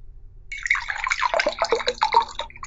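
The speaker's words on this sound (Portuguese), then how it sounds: "Olha que barulho de água, que bonito." Water foley played during a tabletop RPG session: trickling, splashing liquid with irregular drips and gurgles over a couple of seconds, moderately quiet, with no voices.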